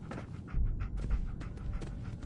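Dogmeat, the dog companion in Fallout 4, pants in quick rhythmic breaths, close and fairly soft, with no talk over it.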